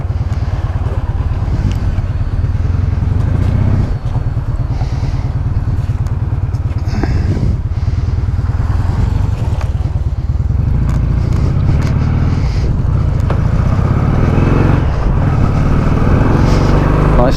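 Motorcycle ridden on a scenic route near Buenos Aires, Argentina: a loud, steady engine rumble with road and wind noise throughout, gear changes shifting the pitch now and then, close and continuous.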